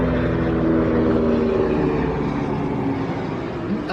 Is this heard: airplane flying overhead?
yes